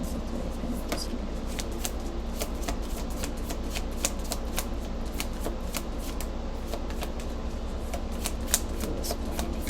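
Tarot cards are shuffled by hand, a close, continuous papery riffling with sharp little snaps and flicks recurring steadily.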